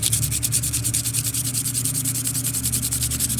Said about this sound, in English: what I think I want to do now is I want to sand it down just a bit